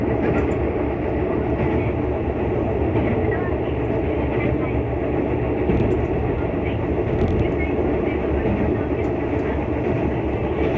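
A JR Kyushu train pulling into Nakahanda station at night, with a loud continuous rumble and rail noise throughout, heard from on board, with faint talk underneath.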